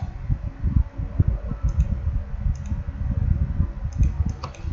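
Keyboard shortcut Ctrl+A pressed on a computer: a few faint, brief key clicks sit over a low steady hum of room or fan noise.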